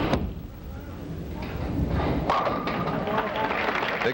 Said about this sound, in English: Big strike. That was a super shot